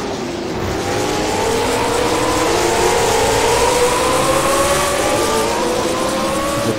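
Late model race cars racing at Jefferson Speedway, several engines rising together in a steady, loud roar with climbing revs as cars battle close for position, no talk.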